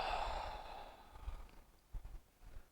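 A slow yoga exhale, a long soft breath through the mouth or nose that fades over about a second, followed by quieter breathing and faint rustles.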